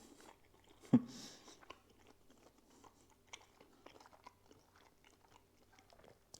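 Close bite into homemade pork and leek sausage, followed by soft, irregular chewing and mouth noises at low volume, with no talking.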